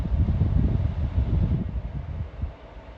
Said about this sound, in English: Do you want to turn that aircon on?